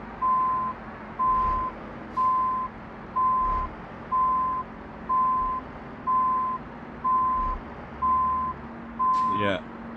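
A truck reverses toward a trailer hookup in Euro Truck Simulator 2, its reversing alarm beeping in a steady, evenly spaced series of about ten tones over a low engine rumble, with a brief rattling clunk near the end.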